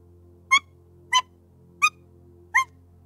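Human voice imitating an axe beak's call: four evenly spaced, short hooting cries over a faint steady hum, each a quick rising squawk.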